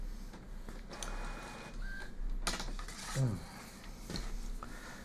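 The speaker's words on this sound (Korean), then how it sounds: "지금 프린터가 열심히 출력을 하고 있는데" An inkjet printer prints colour calibration charts during a Pantone i1Studio calibration, with quiet mechanical whirring, soft rubbing and sliding sounds, and a few clicks and brief motor whines at close range.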